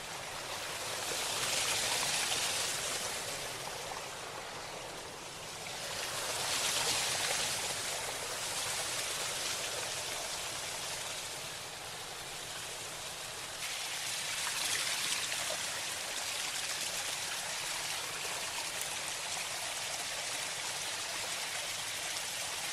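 A flowing stream rushes and trickles steadily and fairly close, swelling and easing gently, with no voices over it.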